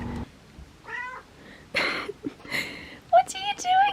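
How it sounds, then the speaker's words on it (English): A cat meows repeatedly outside a window in the snow, several short rising calls spread across the moment, fairly close, with a person talking softly between and over them. "where's the meowing coming from? And there's a cat outside the window."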